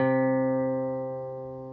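Guitar's D string tuned down to C, ringing as a single sustained steady pitch that slowly fades, clear and close with no other sounds.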